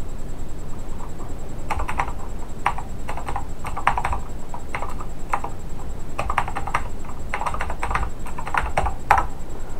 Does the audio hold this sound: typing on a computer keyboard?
yes